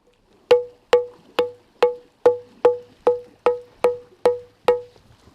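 A hollow stone is tapped about eleven times at a steady, even pace. Each knock is sharp and close, with a short ringing resonance, and no one speaks.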